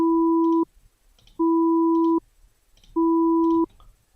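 Synthesized two-note tone from the Desmos graphing tool, clarinet-like and sounding both pitches together, played in three identical steady bursts of under a second each, separated by short pauses, clean and close.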